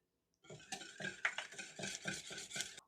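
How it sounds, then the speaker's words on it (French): A spoon stirs a cookie batter of butter, chocolate and egg in a bowl, giving about nine rhythmic, close scraping strokes with light clinks against the bowl. No one speaks. "et on remélange"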